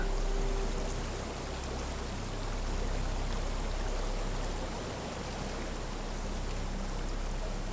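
Steady broadband rush of a waterfall in the video game Risen, a constant dense wash of falling water that stays even and unbroken throughout with no voices.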